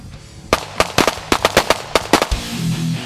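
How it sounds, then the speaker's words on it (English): Rapid gunshots crack at an outdoor shooting site in Clydes Township, Michigan, about a dozen loud, sharp reports fired in a quick irregular burst, each ringing out briefly before the next, with no voices. "the Chop Shop crew went up north to shoot some guns"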